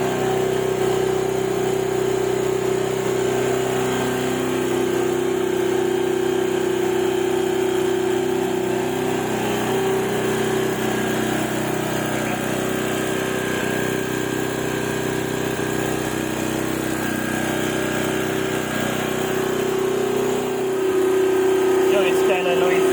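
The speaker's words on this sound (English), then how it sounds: "The generator is kind of noisy" A portable home generator runs close by with a loud, constant engine drone and a steady tonal hum that holds unchanged throughout, with a slight shift in the final seconds.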